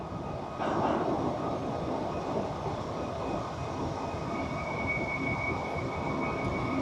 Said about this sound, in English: Check this fourth locomotive back, you guys.